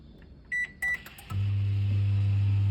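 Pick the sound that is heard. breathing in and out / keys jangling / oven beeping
oven beeping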